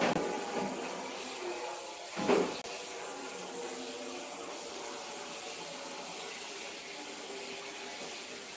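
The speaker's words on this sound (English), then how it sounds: "I'm just going to rinse it, bring it to clean water." Tap water runs steadily into a sink to rinse a fish fillet during fine-dining prep, a continuous close rushing with a brief louder splash partway through.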